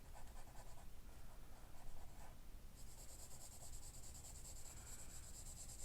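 Graphite pencil shading steadily across paper during a portrait drawing of a girl with braids, a soft continuous scratchy rubbing that shifts in texture partway through, close and quiet with no voices.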